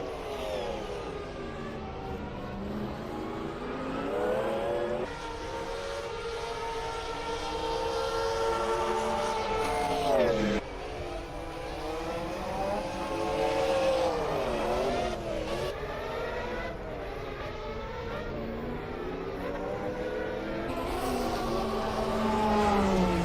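A Sauber C11 Group C race car lapping Laguna Seca in a sim racing game, its engine howling steadily and loudly throughout, rising and falling in pitch through gear changes and corners.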